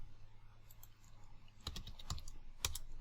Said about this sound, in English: So type Kali.